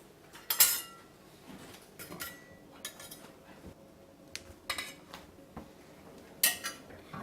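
Fluffy Japanese pancakes are plated with scattered clinks and scrapes of cutlery against dishes, some sharp and bright, others soft, all close by with quiet gaps between.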